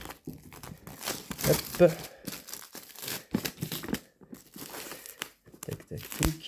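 Plastic shrink-wrap on the Leaders board game box being torn and crinkled open, a run of close, uneven rustling and ripping bursts mixed in with someone talking.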